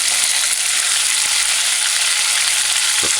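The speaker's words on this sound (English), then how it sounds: "we just want to fry it and brown it" Chicken skin frying in oil on high heat, a dense, loud, continuous sizzle with a faint clink near the end and no talking.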